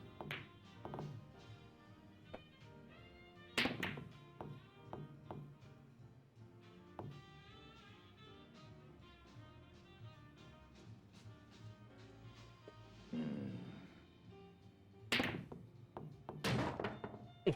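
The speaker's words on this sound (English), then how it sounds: "Okay, we sunk the 8 ball." Pool balls clacking and dropping into pockets in a billiards game in Yakuza 0, with sharp knocks and thuds recurring irregularly over quiet game background, no talk.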